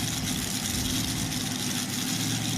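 Pulling tractor engine at a county fair pull idling as it is put into gear, a loud, steady low rumble with a dense, rough mechanical drone holding throughout, no voices.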